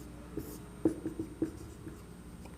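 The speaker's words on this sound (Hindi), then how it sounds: "तो यह भी लिख लेते हैं" Pen scratching notes on paper during a Class 11 chemistry lesson, a few soft, irregular strokes and taps, close and faint, with no voice over them.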